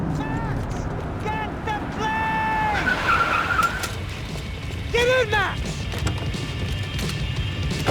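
A car in the video game Max Payne 3 drives hard, with repeated tire squeals and skids rising over a steady engine roar and rumbling road noise.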